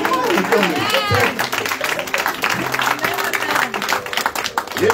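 A church congregation claps and applauds during a thanksgiving service, dense continuous clapping mixed with voices and crowd noise throughout.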